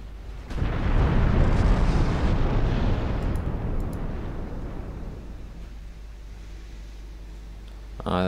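A heavy naval gun salvo booms out in the naval warship game Ultimate Admiral Dreadnoughts, a loud close blast that rolls into a long rumbling decay, with another sharp report right at the end.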